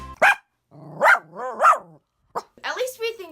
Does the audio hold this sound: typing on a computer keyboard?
no